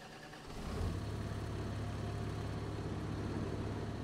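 A 300 hp Valtra tractor in Farming Simulator 25 starts up after a brief quiet moment, then its engine settles into a steady, low, fairly quiet drone.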